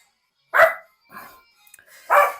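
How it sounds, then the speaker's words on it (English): Rusty, a sister's dog, barks twice loudly at close range with a softer yip between, sharp separate barks with silence in the gaps. "That's just my sister's dog Rusty. She's going crazy."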